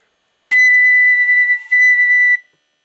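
A B-flat flute note played too weakly comes out as a thin, whistle-like tone, held steadily for about two seconds with a brief dip in the middle, then cut off.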